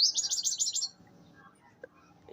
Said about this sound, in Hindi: चिड़ियों की आवाज़ आ रही है तो आप उसे इग्नोर कीजिएगा